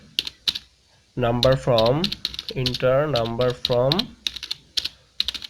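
Computer keyboard clatters in quick, crisp clusters while code is typed, close and clear. Someone speaks over part of it, and bursts of keystrokes come before and after his voice.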